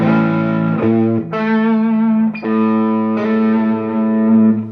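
An electric guitar sounds one sustained A note with a bright effects-laden tone, struck several times and left ringing, loud and close.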